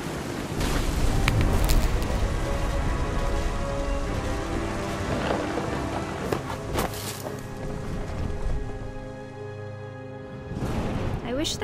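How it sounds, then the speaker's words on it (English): Rain falling steadily in the video game What Remains of Edith Finch, a broad hiss of drops with low rumbles suggesting distant thunder, moderately quiet and fading briefly near the end before swelling again. "The thunder sounded much too close and full of angry power."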